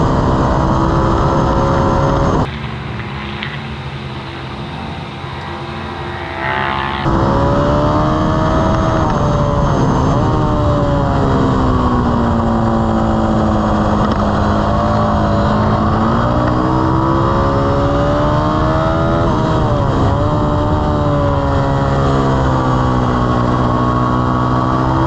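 Race car engine heard from an onboard camera during the final lap of a first session, loud and continuous with rising and falling revs through gear changes, briefly muffled for a few seconds before returning at full volume.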